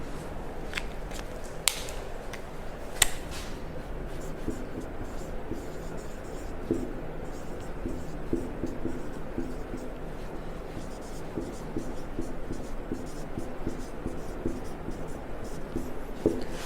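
Pen or chalk scratching out a name by hand in a history lesson, continuous light strokes with a few sharp taps, close, with faint talk in the background.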